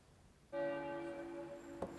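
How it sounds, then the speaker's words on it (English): Church bells chime at Elon Community Church, a strong ringing tone with lingering harmonics that starts abruptly after a quiet moment and sustains steadily, with a brief knock near the end. "The chiming of the bells is a normal sound for those walking into the Elon Community Church"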